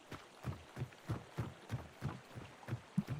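Ordinary footsteps in an online shooter, about eight soft dull thuds at a steady walking pace, close and fairly quiet with nothing else over them.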